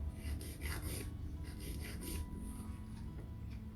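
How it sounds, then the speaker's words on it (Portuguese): A nail file rasps diagonally across a stiletto-shaped fingernail, making quick, soft repeated strokes in a steady rhythm, close but faint over a low background hum, with no talk. "Então, eu lixo na diagonal"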